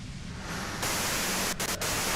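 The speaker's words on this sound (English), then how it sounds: "you can do it through the white noise" Radio white noise static in Disco Elysium starts as a softer hiss, then jumps abruptly to a loud full-band wash that holds, broken by two brief dropouts near the end.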